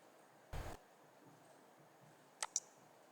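A computer mouse clicking during web project work, two quick, sharp, close clicks in a near-silent room, with a brief soft rustle before them.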